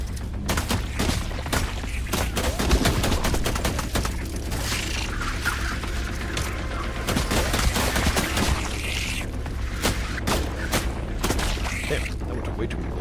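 A rapid, relentless stream of video game gunfire rattles on with booms and bursts of shots throughout, loud and close, while a player talks over it.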